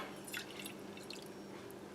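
Warm water is poured into a container to proof yeast, a faint, close dribbling and splashing with light drips over two seconds and no talking.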